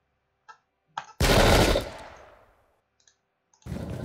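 Gunfire from troops in the video game Pike and Shot Campaigns, set in a 1644 battle: a few faint clicks, then one loud, booming volley that decays slowly, then quiet ticks and a second volley starting at the end.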